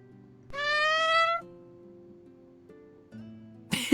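Barry the cat lets out a single drawn-out meow, clear and close, over a soft background of quiet tones, followed by a brief noisy burst at the end.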